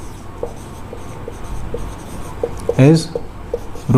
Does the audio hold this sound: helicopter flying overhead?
no